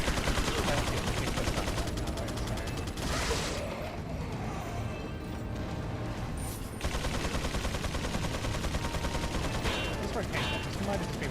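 Dense handgun fire from Resident Evil 4, rapid loud shots packed into a continuous barrage with mechanical clatter, keeping up for the whole stretch with only a brief dip midway.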